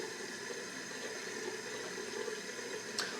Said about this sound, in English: let me wet my face. Warm water